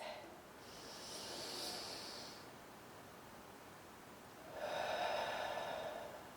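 Long, deep breaths during a yoga class, a slow, airy inhale followed after a pause by a fuller, rushing exhale, heard close and alone.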